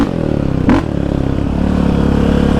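Yamaha Raptor 700 Stage 3 ATV engine revving hard with a loud, continuous growl during a wheelie at Iron Mountain Park, a brief surge near the start and a steady pulsing drone throughout, close and alone.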